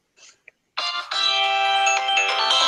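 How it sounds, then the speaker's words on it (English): A phone ringtone starts after a couple of short blips, then sounds as a loud, sustained electronic melody of bright, steady tones, close to the phone. "See, so that's my ringtone."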